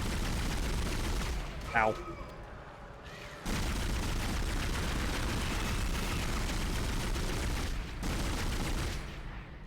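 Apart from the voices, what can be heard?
gunfire shooting a baby enemy in Dead Space video game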